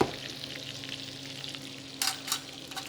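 Mushrooms fry in a hot pan with a steady sizzling hiss under a low background hum. A couple of louder crackling bursts come near the end, as if the pan were tossed or stirred, and no one speaks.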